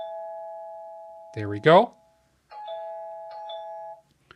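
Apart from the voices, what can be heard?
Tapo camera chime triggered by motion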